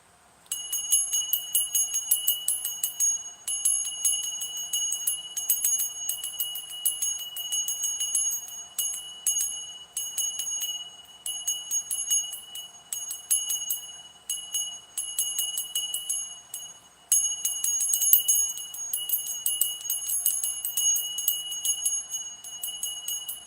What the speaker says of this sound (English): So we're gonna ring this bell.